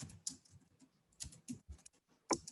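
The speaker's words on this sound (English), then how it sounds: "From here, you type Jupyter Notebook." Typing on a computer keyboard, a sparse irregular run of soft, close key clicks with short pauses between bursts.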